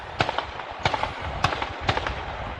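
Gunshots from shooting near homes in Wilson County, likely hunting: four sharp cracks spaced about half a second apart over a steady background, fairly distant, with no talk.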